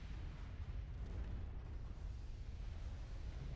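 Heavy booms from a warship's many 4-inch guns in Ultimate Admiral: Dreadnoughts rumble in a dense, continuous low barrage at moderate volume.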